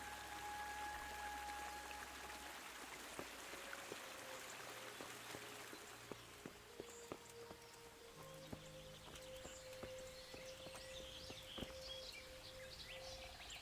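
Stream water flows steadily in Kingdom Come: Deliverance, a faint, continuous watery hiss with scattered soft ticks and light background tones.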